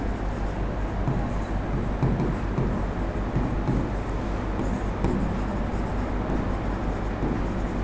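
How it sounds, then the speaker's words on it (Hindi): Continuous scratchy marker or chalk strokes on a board during an accounts class, a faint, repeated writing texture over a low steady room hum. "चलो लिखते हैं यहाँ पे।"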